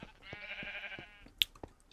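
A Minecraft sheep gives one drawn-out nasal bleat, followed by a few sharp clicks and taps from blocks and game actions.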